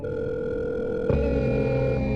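A cell phone places a call, giving a steady electronic tone that switches abruptly partway through to a different, lower ringback tone, clear and continuous with no voices.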